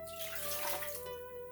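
Water is poured from a jar or cup for making soapberry shampoo, a steady close splashing flow that stays even and fairly soft throughout, with no talking.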